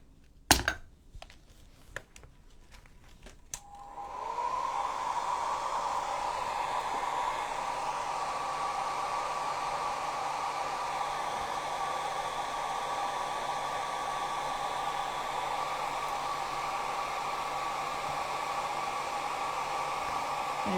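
A hair dryer blows steadily on a small distressed Halloween book nook cabinet craft piece, a continuous close whooshing roar that starts after a few light taps and clicks and runs unbroken to the end.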